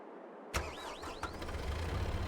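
Tractor engine in Farming Simulator 22 cranking and catching after a moment of silence, a sharp start followed by a steady mid-pitched idle with a few whining tones, close and alone.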